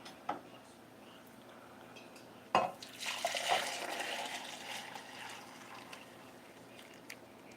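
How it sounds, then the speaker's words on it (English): Homemade eggnog mixture is poured from one container into another, a sharp clink followed by several seconds of liquid splashing and trickling, fairly close and faint, with no talking. "So we're gonna pour that into here"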